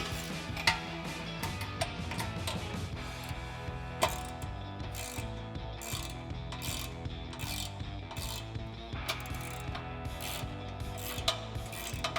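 Ratchet clicking steadily with a 5-inch extension while tightening studs on a RedRock 4x4 stubby front bumper on a 2018 Jeep Wrangler JL; rapid close metallic clicks in repeated bursts, loud and alone with no talk.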